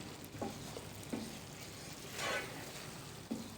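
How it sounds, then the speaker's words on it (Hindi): Butter chicken with fresh cream bubbling and sizzling in a pan over a high flame, a soft steady fry with a few spoon scrapes and knocks and one brief louder hiss. "अब हम इसको 1 से 2 मिनट के लिए हाई फ्लेम पर पका लेंगे।"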